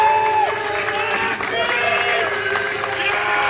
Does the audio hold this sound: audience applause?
yes